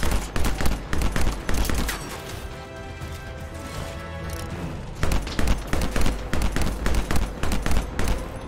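Heavy video-game gunfire aimed at vehicles' gas tanks: loud rapid bursts of shots and crashes, a quieter stretch mid-way with a droning tone, then another dense barrage of shots.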